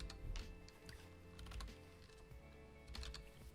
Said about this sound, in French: Je vais taper mon marqueur.